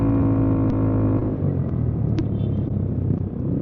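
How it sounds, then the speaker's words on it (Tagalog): A car maneuvers on a wet road at night, a steady close engine rumble with tire and road noise throughout, fairly loud and continuous. "Oh, may kotse. Nagmamaniobra"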